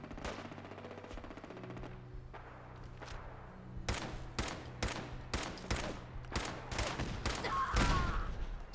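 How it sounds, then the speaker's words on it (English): Rapid bursts of automatic gunfire from armed NPCs in Fallout 4 Survival mode, a string of loud sharp volleys cracking out one after another over a steady game backdrop, with no talk. "So whatever they're shooting at over there is something that I would also want dead."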